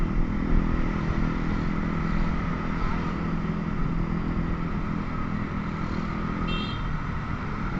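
A motorcycle engine drones steadily and loudly throughout as the bike rides along and briefly slides, with faint clatter riding over the constant road noise.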